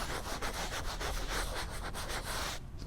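Gentle, steady back-and-forth sanding of pastel cardstock, a continuous papery scratching rub that fills the clip close up, stopping abruptly near the end.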